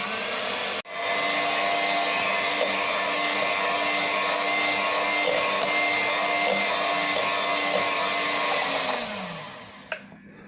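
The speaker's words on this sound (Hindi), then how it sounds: "इसको हाई स्पीड के ऊपर उस वक्त तक हम व्हिप करेंगे जब तक ये बिल्कुल एक फोमी इसकी शक्ल नहीं हो जाती है" An electric mixer whips cream at high speed in a loud, steady, close whir that runs for several seconds, then winds down and stops near the end.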